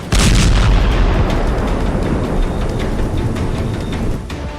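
A huge missile depot explodes in Tartus, Syria, sending out one loud, sustained roaring boom that rumbles and slowly fades over several seconds, with no voices.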